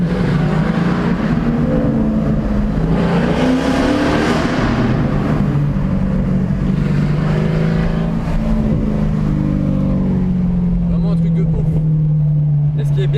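A convoy of Mercedes AMG cars revs hard at night, engines roaring loud and close with rising and falling pitch as they climb through the revs, while people talk over the noise.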